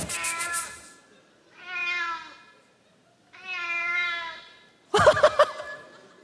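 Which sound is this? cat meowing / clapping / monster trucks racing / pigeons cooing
cat meowing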